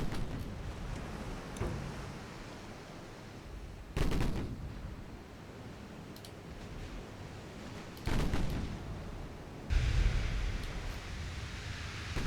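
Warship guns firing on an enemy battleship in a naval video game at long range, heard as several heavy booming salvos spaced a few seconds apart over a steady roar of sea ambience.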